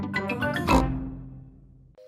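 A cartoon pig character gives an oinking vocal burst, a quick series of harsh snorts peaking into a louder grunt, then trailing away, loud and close with no talk.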